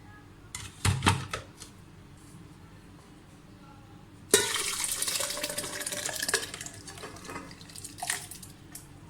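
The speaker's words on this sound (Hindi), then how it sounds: "इसी तरह से सारे फालसे और जो चीनी का शीरा है इसको डालें।" Sugar syrup pours over falsa berries in a kitchen with a steady liquid splashing and trickling that starts suddenly partway through and continues for several seconds, preceded by a few brief clinks and handling noises.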